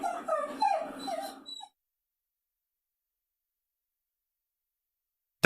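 A dog whimpers and whines in a series of high, wavering cries for about a second and a half, then falls silent before a brief click at the very end.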